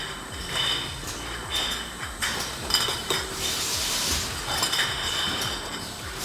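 Glass bottles clink and clatter steadily on a bottle-washing line at a farm winery outside Moscow, a dense, continuous jangle of rattling glass and machinery with no pauses.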